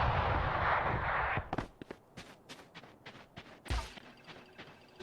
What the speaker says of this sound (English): More just random shots left and right.